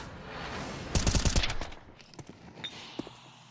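A burst of AK rifle fire from Counter-Strike on the map Ancient: a quick rattling string of close, loud shots, then a few scattered fainter pops as it trails off.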